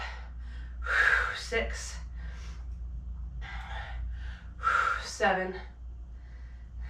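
Sharp, forceful exhales and breaths push out during a full-body strength workout, coming in bursts alongside a coach's counting voice.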